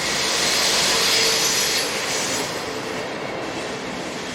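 Class 110 electric locomotive 110243 arriving at a station from Berchtesgaden, loud and near, with a sustained rumble, wheel squeal and a broad rushing noise that eases slightly as it slows.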